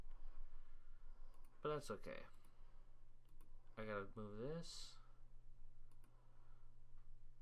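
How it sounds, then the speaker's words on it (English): Soft, scattered computer mouse clicks, a handful of faint ticks spread across several seconds, with someone talking over parts of them in a quiet room. "You probably hear my mouse clicks"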